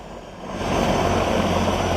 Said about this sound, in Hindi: हेलीकॉप्टर का दरवाजा बंद कर दिया गया है, मेरा ख्याल है अब रवानगी हो रही है वहां से